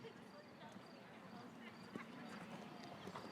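A large horse moving around a show jumping course at a million-dollar grand prix, soft hoofbeats under continuous commentary and faint arena ambience.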